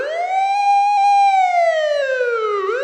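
A police car siren in a Japanese horror video game wails loudly and steadily, one long rising-and-falling tone that swells close by, then dips in pitch near the end as the car passes and moves away.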